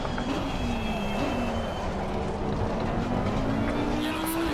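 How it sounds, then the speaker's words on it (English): Porsche race car in Assetto Corsa Competizione on the Zolder circuit, its engine droning loudly and steadily with rising pitch through the gears, a continuous near roar throughout. "The Porsche is a lot of fun and it sounds"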